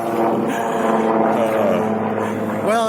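Helicopters passing overhead make a steady, loud droning rotor and engine roar that fills the background and holds constant, with a rising whine near the end.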